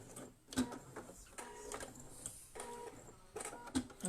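A domestic sewing machine stitches a button headband in reverse in short, stop-start bursts. Its whirring runs come close together, faint and near, with no talking.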